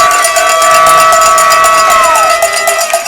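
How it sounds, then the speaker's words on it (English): Rapid, rhythmic cowbells clang from a loud crowd just below at a Caddo Mills versus Sunnyvale high school football game at Ed Locker Stadium, with a sustained whistle-like tone gliding down over the dense cheering. "Got some cowbells right below us here."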